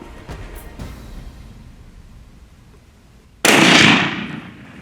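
A single loud rifle shot fired at a sable antelope on a South African hunt, a sharp close crack that rings out and decays over about a second.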